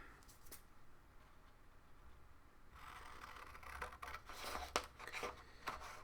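Scissors cutting through paper, a quiet stretch giving way to a dense run of snipping and crisp rustling strokes, close and fairly soft.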